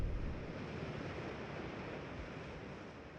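Steady broadband rush of a waterfall in the Selenitic Age of the video game realMYST, a continuous even roar heard from a distance with no voices.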